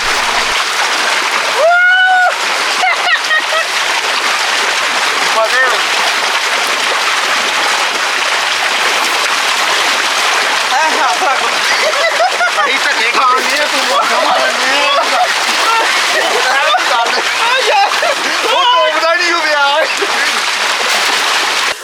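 Several people bathing in open water during summer heat, with water splashing and sloshing continuously throughout, mixed with lively shouting and talking voices close by.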